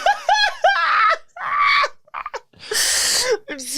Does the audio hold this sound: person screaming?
yes